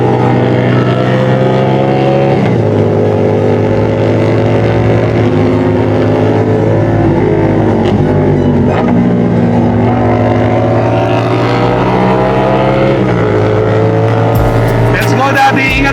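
A 450 SR motorcycle revving hard while warming its tires, a loud, continuous engine roar with rising and falling pitch sweeps, close to the microphone.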